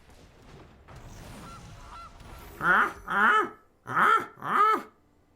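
A goose honks four times in quick succession, loud and close, following a few seconds of quieter background murmur.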